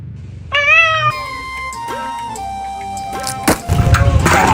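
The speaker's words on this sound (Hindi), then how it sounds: "बिल्ली दूध पी गई है" A pet cat gives a few close, drawn-out meows, one after another, followed by sudden bumps and rustling noise.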